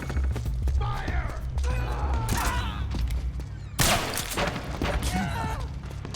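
Soldiers in the Metal Gear Solid 4 video game firing a gunfire volley, a dense, loud stretch of rattling shots and impacts mixed with shouting voices, ending in a heavier burst of fire.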